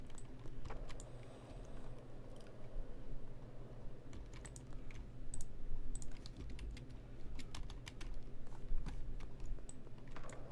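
Computer keyboard keys clicked while playing a PC game, a near, fairly quiet stream of irregular taps and short bursts of typing over a low background hum.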